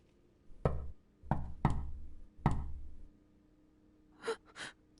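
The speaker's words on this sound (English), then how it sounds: "Suddenly I heard a knock at the door." Knocking at a door in the visual novel CHAOS;CHILD: four heavy, booming knocks in an uneven rhythm, close and loud, followed by two fainter softer sounds.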